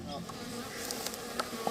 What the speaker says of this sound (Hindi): जहां मधुमक्खियों का परिवार शहद बना रहा है